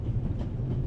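A train rolls along inside the video game The Raven Remastered, aboard a luxury train. A low, steady rumble and rattle run continuously for under a second, with no voices.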